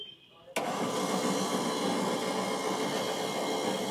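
A battery-powered sugarcane juice machine with rollers switching on with a sharp click, then a steady loud whirring motor hum that continues evenly, with a voice speaking over it.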